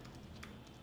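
A few soft, quick keystrokes on a computer keyboard while a keyword is entered, faint and close, with a brief louder click in the middle.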